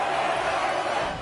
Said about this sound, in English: We just heard a bunch of oohing and aahing